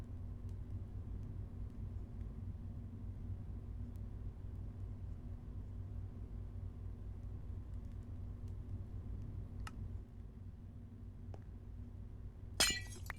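A pane of glass breaks in Minecraft with a single short, crisp shattering crash near the end, after a long stretch of faint low background hum.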